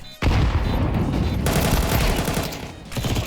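Grenade and flashbang blasts in the game CS2 burst out loudly after a brief silence, followed by dense sustained rumbling gunfire and explosions that swell again near the end.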